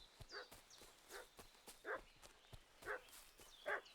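A dog barks repeatedly in the medieval world of Kingdom Come: Deliverance II, five or so faint yelps spaced about a second apart over soft clopping and footsteps.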